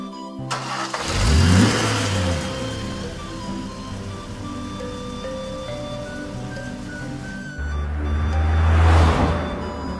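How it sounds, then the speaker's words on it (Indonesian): A car engine revs loudly in an animated Indonesian drama scene, surging at the start as the car approaches, holding a steady drone, then roaring again near the end. "ada mobil yang mau nabrak Anda"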